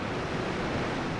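Ocean waves washing in a steady, continuous broadband wash of surf, moderately loud and unbroken, with no voices.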